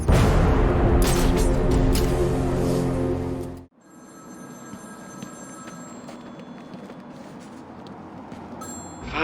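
A phone rings in Batman: Arkham City, a loud rolling bell tone that cuts off abruptly partway through, leaving a quieter electronic hum with faint beeping tones.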